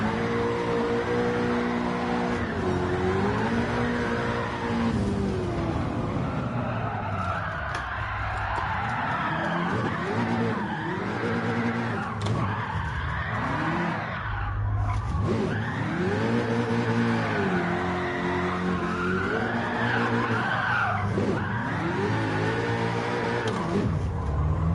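Gran Turismo 7 car drifting and spinning after a badly timed clutch kick, a loud continuous engine wail rising and falling with repeated tire squeal and skidding over about twenty-five seconds.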